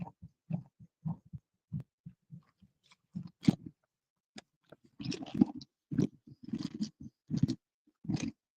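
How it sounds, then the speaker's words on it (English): Close, loud crunching and chewing right against a microphone while someone eats during a fishing outing, coming in sporadic bursts that grow denser toward the end, with quiet gaps between bites. "I didn't think about the fact that might be really loud crunching in the microphone"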